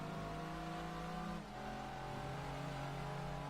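A Dodge Viper in the racing game Gran Turismo 2 holds a steady, loud engine drone with a brief dip in pitch midway, then climbs again, no voice over it.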